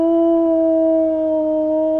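A wolf howl rings out as one steady, sustained tone that barely dips in pitch over about two seconds, loud and alone with no voices.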